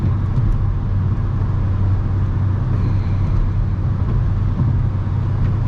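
Car driving along a road, with a steady low engine rumble and road noise from inside the cabin, loud and continuous without talk.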